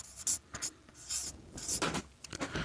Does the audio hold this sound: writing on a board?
yes